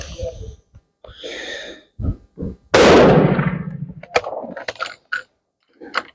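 A single loud, close gunshot from an 8x56R Kropatschek rifle fire-forming .348 Winchester brass rings out with a long decaying echo, preceded and followed by brief speech and breathing.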